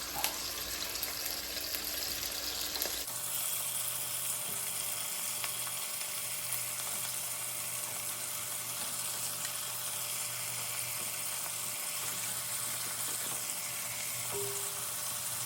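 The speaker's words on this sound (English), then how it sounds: "these tomatoes are gonna literally burst open under the heat" Cherry tomatoes fry in a hot pan for a burst tomato pasta sauce, a loud, steady close sizzle that rises sharply after a quieter start, with small pops over the hiss.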